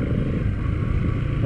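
A motorbike engine drones steadily while riding on a rough, muddy camp road, with loud, close rumble and wind noise throughout and no talk.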